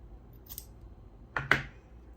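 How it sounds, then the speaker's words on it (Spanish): Scissors snipping through crochet yarn on a handmade bag, a faint early click followed by two crisp, close snips in quick succession. "Aquí ya cortamos la hebra."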